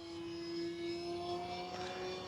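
An FMS Ranger V2 RC airplane with a 1220mm wingspan flies fast overhead on its maiden flight, its electric motor giving a steady, fairly faint whine that holds throughout with a slight swell in the middle.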